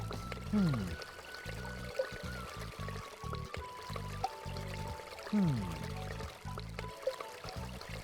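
Water pours into a container twice in the DOS game The Legend of Kyrandia: Book 3, as short gurgling sweeps over looping game music.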